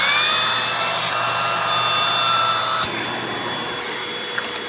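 A Eureka Boss Smart Vac 4870 MZ-2 upright vacuum cleaner runs close by with a steady high whine and airy rush that shifts in pitch partway through, then settles into a slightly lower hum.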